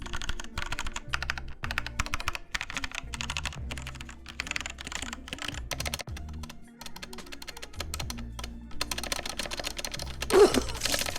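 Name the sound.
typing on mechanical keyboard with stock red switches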